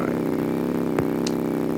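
A motorcycle engine in the Roblox game Bloxburg, a steady buzzing drone held at an even pitch, close and loud, with a brief click-like burst midway and no talk.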